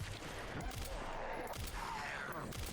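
Rapid bursts of gunfire in the survival horror game Resident Evil Requiem, set in a gas station, packed close together over a steady low rumble of game ambience with no talk.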